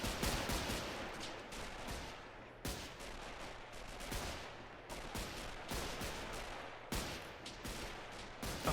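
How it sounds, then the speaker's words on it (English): Dense gunfire and bullet impacts from a WW1 battle in Men of War Assault Squad 2, with rifle and machine-gun fire, rounds striking trees and chipping wood, continuous loud bursts with sharp repeated cracks and no talk. "at the trees being hit, all the bullet impacts, all the wood being chipped off"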